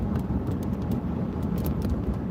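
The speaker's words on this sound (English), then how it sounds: "Here's one of those California moving trucks." A California moving truck, one of the Penske rental trucks, rolls along the road with a steady low rumble and broad road noise, continuous and fairly close throughout, with no talking.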